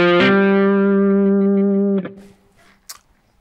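A distorted electric guitar sounds one sustained hammer-on at the fifth fret, ringing loud and steady for about two seconds before being cut off, followed by faint handling noise.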